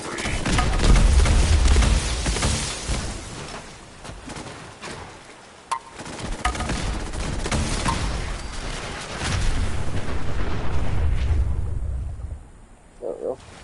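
Heavy explosive booms and gunfire-like blasts from a missile launcher in the video game Fallout 4, loud and dense, rolling on for most of the stretch before a sudden drop near the end.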